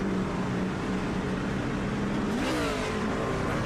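A race truck engine in the SRA IEL Truck Series sim races: a steady mid-pitched drone, then a sudden downshift and a rising, snarling throttle-up near the end, loud and close.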